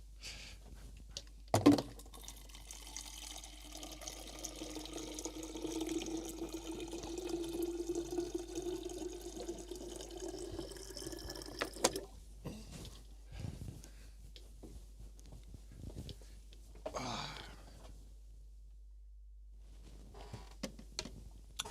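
Water runs from a tap into a container for about ten seconds, a steady close rush that rises slightly as it fills, then stops abruptly, leaving faint handling noises in a quiet room.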